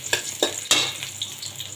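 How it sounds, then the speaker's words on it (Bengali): Spices sizzle and crackle as lentils (dal) are tempered in hot oil on a stove, with a few sharp bursts of frying followed by a softer, steady hiss. A spoon stirs faintly underneath. "আমি ওদিকে চুলায় আমি ডালটা বাগার দেবো"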